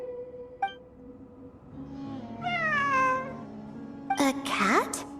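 A cat meowing in the game Genshin Impact, with a short chirp early on, then a drawn-out falling meow and a sharper cry near the end, heard clearly over a quiet ambient hum.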